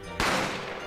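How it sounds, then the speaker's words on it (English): A single sharp gunshot from The Great Ace Attorney Chronicles, fired in a restaurant, cracks suddenly after a quiet moment and leaves a fading reverberant tail. "A gunshot rang in my ears."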